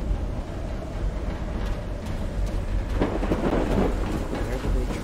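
A storm in the video game Call of the Sea: steady rain hiss with deep rolling thunder, swelling into a louder rumble about halfway through and staying heavy to the end, with no talking.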